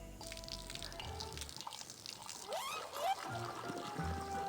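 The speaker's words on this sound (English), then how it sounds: "We are going to pour the coffee on these poor dancers." In the game Grim Fandango, coffee is poured onto dancers: a trickling, dripping pour with a few rising splashy tones, heard over steady game background music and ambience.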